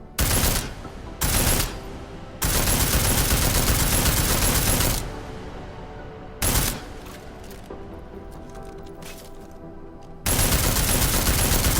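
Loud bursts of gunfire pound an armored target in Deus Ex Mankind Divided, coming in several sustained volleys of rapid shots separated by short pauses and reverberant quieter stretches, with no talking.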